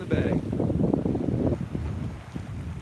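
Sailboat underway down a bay, with steady wind buffeting and low water rush filling the whole stretch and faint voices mixed in.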